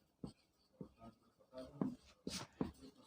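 A teacher writes on a board during a physics lesson, making a series of soft, separate scratching and tapping strokes, about five or six over a few seconds, quiet and close with near silence between them.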